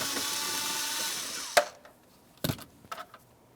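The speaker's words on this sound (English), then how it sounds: "We'll go ahead and remove those screws and get this out of here." A power drill backing screws out of a 2000–2005 Buick LeSabre glove box: a steady, high whirring spin for about a second and a half that cuts off, followed by a few sharp clicks and clunks of handling, no speech.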